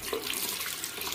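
Steady water running from a tap into a sink during soapy handwashing, a soft, even splashing stream that continues without a break, with no talking.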